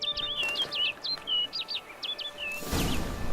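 A bird in The Witcher 3 calls in a quick series of bright, repeated chirps with short pauses between them. A louder burst of rushing noise follows near the end.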